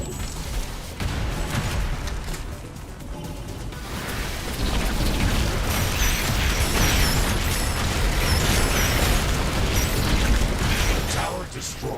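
A defensive tower being destroyed in The Riftbreaker amid a dense, continuous roar of explosions, booms and mechanical clatter, loud and crowded throughout, with a voice speaking over the din.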